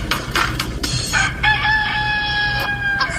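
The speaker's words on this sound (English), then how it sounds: "Sound alert says Farmer Pierce played Let's Do a Chicken remix." A chicken remix alert bursts out with clucking and a crowing rooster, short choppy clucks followed by a long, bright, sustained crow, loud and close with no talking.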